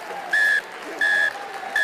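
A referee blows three short, even whistle blasts to end a rugby match between Stado Tarbes and CSBJ, each sharp and clear over a low crowd murmur.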